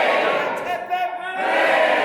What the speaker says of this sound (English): can we have 3 cheers for the bride and groom?